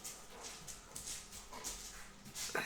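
Dog whimpering faintly indoors, soft, broken whines and small yips repeating irregularly over a quiet room hiss.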